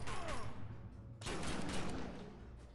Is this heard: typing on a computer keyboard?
no